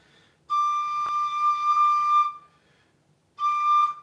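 A tin whistle sounds one clear, steady D note, rich and rough, held for nearly two seconds, then the same note returns briefly after a short pause.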